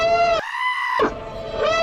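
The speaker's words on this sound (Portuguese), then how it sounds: "é um alarme de Star Wars de verdade, só que tá muito alto" A loud, high-pitched Star Wars alarm from the Rogue One teaser trailer, made of harmonic wailing tones with a brief break, whose bleating, scream-like quality resembles an animal cry.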